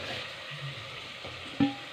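Soya chunks fry in a pan for a soya biryani, giving a low, steady sizzle with faint stirring scrapes and one sharper clatter near the end, close and alone without talk.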